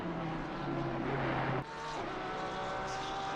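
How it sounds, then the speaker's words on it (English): A Lamborghini race car on the Suzuka circuit in a racing game, its engine droning loudly with stepped pitch shifts, then dropping in volume about halfway through as it carries on at a steady mid-level hum. "Holzhausen, the only Lamborghini on track this evening."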